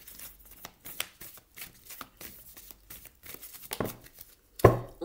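Oracle cards shuffled and drawn by hand, a series of soft close-up riffling and flicking bursts, quiet and uneven, ending with a sharper slap of a card being pulled.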